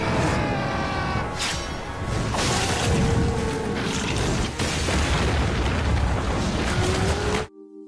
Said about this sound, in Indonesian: Ia memerintahkan tentara untuk meledakkan tebing agar reruntuhannya dapat melukai Arthur